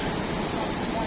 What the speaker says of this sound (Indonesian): jadi ini adalah pompa-pompa mesin sebelah kiri